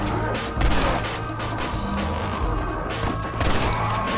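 Loud rifle fire in Red Dead Redemption's Undead Nightmare, a Winchester among the guns, with sharp bursts near the start and again toward the end over a dense, noisy background of game action.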